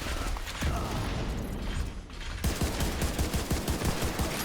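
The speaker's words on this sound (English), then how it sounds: "Firing on targets." Rapid bursts of video game weapons fire hitting targets, a dense rattling of automatic shots that grows sharper and more clustered in the second half, loud and continuous with no talking.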